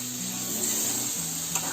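Ground dal sizzling and frying in a pan as it is stirred, a steady bright hiss with soft scraping movements, close and continuous with no talking.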